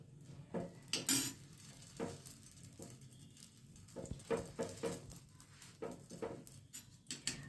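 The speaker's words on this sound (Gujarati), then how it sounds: "હું વડું શેકી લઉં" Vada is toasted in a home kitchen pan for Mumbai-style vada pav. Quiet metal utensils clink and scrape against the pan in short intermittent bursts over a faint low sizzle.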